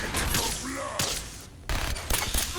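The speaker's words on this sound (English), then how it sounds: "I'm a little tempted just to open fire and see what happens" Fallout 4 combat gunfire, rapid bursts of shots cracking in quick succession, loud and close, with brief gaps and game sounds mixed in and a voice briefly audible.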